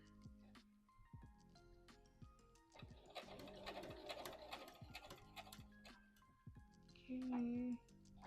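Home sewing machine stitching the side seam of a dress lining, a quick rhythmic mechanical whir in bursts that stop and start, with brief backstitch runs at the end and quiet handling noises between.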